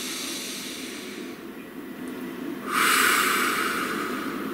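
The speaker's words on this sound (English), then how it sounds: "Please take a nice deep breath." A single deep breath drawn in, a long steady airy inhale that swells partway through and holds at full strength toward the end, close and alone with no talk.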